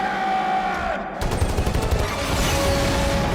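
Mech suits firing their guns in a Matrix Revolutions battle scene: after a brief lull, dense rapid-fire gunfire erupts and keeps up as a loud, continuous barrage.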